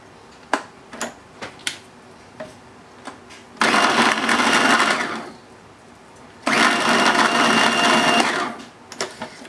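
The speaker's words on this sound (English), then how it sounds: "So you're doing it in the food processor." A food processor whirs in two loud pulses of several seconds each while butter is cut into low-carb pie crust dough, with sharp taps and clicks in between and no voices.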